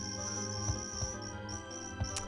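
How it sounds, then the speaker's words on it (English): Creatures in the video game Pikmin 2 make a steady, high cricket-like chirping trill. Faint soft thumps come in at irregular moments, and no one speaks. "they actually make like almost like cricket noises"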